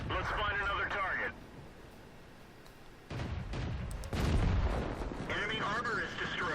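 Cannon fire from the tank combat game CIM2 booms out in loud, low blasts with sharp transients, separated by quieter gaps, while a voice speaks over parts of the scene.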